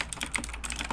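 Rapid, dense keystrokes tapping on a data pad keyboard, close and continuous with no voices.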